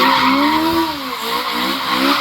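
Terry Grant's car spins with a locked front wheel at a motor show by the moat at Leeds Castle, Kent, its tyres letting out a loud, continuous squealing skid that wavers in pitch as the car rotates.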